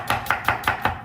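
A knife cuts an onion into thin strips on a board, making five evenly spaced, crisp chopping knocks in quick succession, close and clear.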